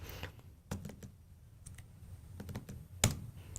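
A computer keyboard shortcut is tapped out during a Python coding session, a few quiet scattered key clicks with one louder press near the end, alone in a quiet room.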